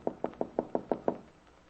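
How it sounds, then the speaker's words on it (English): Seven light knocks tapped on a wooden kitchen door at a steady, quick rhythm, close and clear, then a quiet pause. "Bill taps lightly on the kitchen door"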